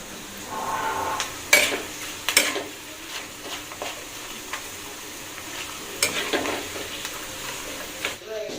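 Papad frying in hot oil in a home kitchen at night, a steady soft sizzle with a few sharp crackling bursts and clatters scattered through.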